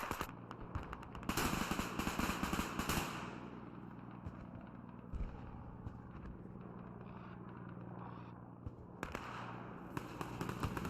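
An artillery piece destroyed in the WWII strategy game Men of War 2: loud crackling blasts burst out at the start, then a rumbling, popping aftermath with scattered sharp reports. A second burst of crackling arrives near the end.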